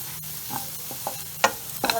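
Masala spice powders sizzle softly in a hot pan for a Kerala-style beef roast, with a few scattered scrapes and taps of a spoon stirring, close and fairly quiet, no voices.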